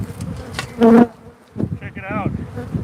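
Bees swarming around beekeepers in bee suits outdoors, loud close buzzing that swells and fades as insects fly past, mixed with brief talking.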